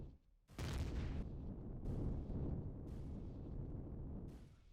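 A turret fires in the space survival game Empyrion Galactic Survival, sudden booming blasts that merge into a sustained, rumbling barrage, loud and close, with no voices.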